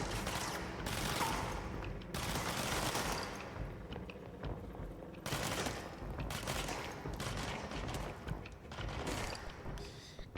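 Sustained bursts of gunfire from the video game Control, dense rattling volleys with brief gaps, loud and close, with in-game sounds and faint talk mixed underneath.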